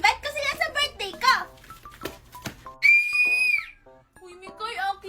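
A child blows a toy whistle in a long, steady shrill tone, with children chattering and shrieking excitedly before and after it.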